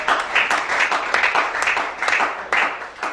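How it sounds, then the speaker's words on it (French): A church congregation applauds, a dense patter of many hands clapping close and loud in bursts that swell and dip over a few seconds. "Acclame bien."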